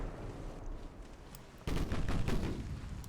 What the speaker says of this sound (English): It's firing with only one gun.